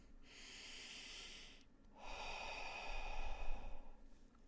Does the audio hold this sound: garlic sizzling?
no